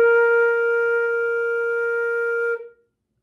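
A single sustained B flat played on a flute, a clear steady tone held for about two and a half seconds before stopping cleanly, solo with no other sound.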